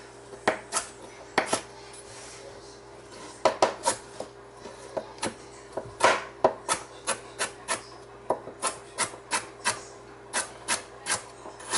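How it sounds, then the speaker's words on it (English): Knife chopping carrots into small pieces on a cutting board, a run of sharp, evenly spaced taps, close and moderately loud, coming in quick bursts with brief pauses between them. "I just start chopping, just small pieces, nothing big"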